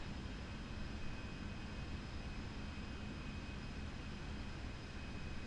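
Steady airliner engine drone as a plane comes in to land on runway 08 right in Microsoft Flight Simulator, a constant even roar with a faint high whine, no talk.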